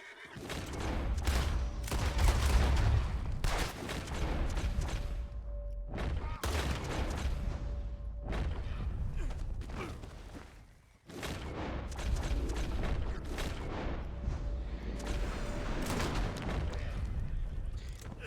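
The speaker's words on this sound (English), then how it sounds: "I'm trying to shoot his gun out of his hand" Gunfire from the video game Red Dead Redemption 2, with sharp shots cracking among a horse's neigh, hoofbeats and game voices talking, a few loud bursts spread across a busy, dense scene.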